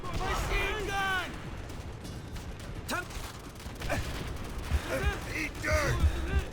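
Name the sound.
machine gun fire in video game Call of Duty: World at War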